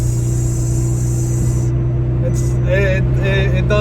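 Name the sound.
turbo car revving with muffler delete and blow-off valve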